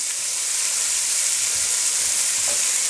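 Sweet onions sizzle steadily in hot oil in a pan as they are stirred, a loud continuous crackling hiss with faint scraping underneath.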